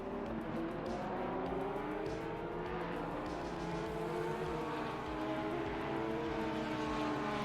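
Porsche 949 race cars in a sim racing game roar continuously, with high, overlapping engine whines shifting pitch as cars pass, heard at a moderate distance without talk.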